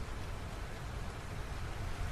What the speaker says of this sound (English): There was some light rain outside, but nothing world-ending.